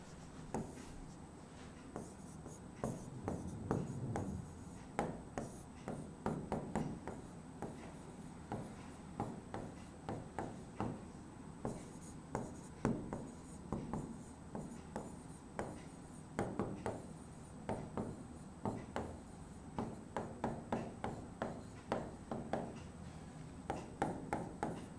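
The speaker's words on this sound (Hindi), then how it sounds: "मैं पीछे लिख देता हूं आपके लिए कुछ नोट लिख दे रहा हूं" A teacher writing notes on a board during a chemistry lesson: continuous rhythmic scratching strokes, close and fairly quiet, with short pauses between bursts and no talking.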